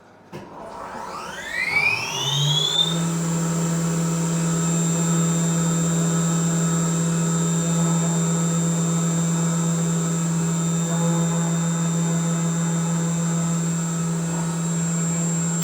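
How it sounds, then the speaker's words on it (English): A CNC machine thread milling a hole, its spindle winding up with rising whines over the first few seconds, then settling into a loud, steady high-pitched tonal hum that holds evenly to the end. "I'm just testing out the program at the moment to make sure that the thread milling is going to work"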